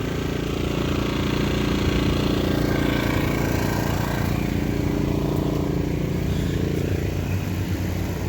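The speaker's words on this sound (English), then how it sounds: "Yeah, I know the generator's loud." A portable generator running outside a van in the rain gives a loud, steady engine drone with a constant low hum that stays unbroken throughout.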